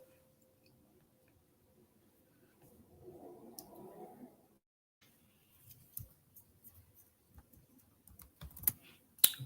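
Faint key presses on a computer keyboard, Control and brightness keys, come as scattered soft clicks and taps, quiet and close, with a brief murmur of background noise before them.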